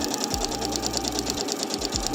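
A sewing machine runs steadily at narrow stitch width, its rapid, even needle clatter and whirring motor continuing loudly for a couple of seconds, with a few low thumps as the fabric shifts and no voices.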